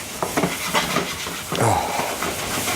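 Onions sweating in a pan as a wooden spoon stirs and the pan is shifted about, giving a steady close hiss of gentle frying with soft scraping and knocks.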